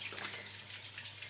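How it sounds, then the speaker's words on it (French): Tap water runs steadily into a sink while a spatula is rinsed, a soft close hiss with faint splashes and no voices. "Je rince ma spatule"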